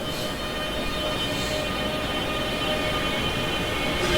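Class 465 electric train running in Train Sim World 2, a steady rolling drone with a faint constant motor whine, continuous and even, with no talk.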